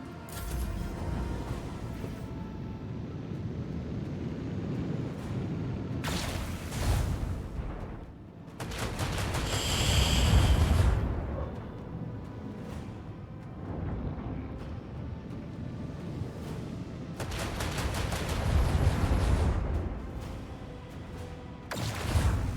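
Starship torpedoes launching in the Rogue Trader game, a string of loud booming blasts and rumbling bursts over a steady mechanical drone, with sharp broadband bangs recurring through the passage.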